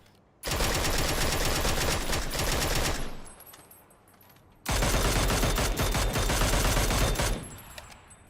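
Sustained automatic gunfire from several guns in PUBG, loud and close, in two long dense bursts separated by a short quieter gap.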